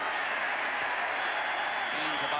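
A big stadium crowd roars and applauds without a break at the Rose Bowl during a 1998 college football game between Oregon and UCLA. The loud, steady wash of cheering carries under a commentator's voice.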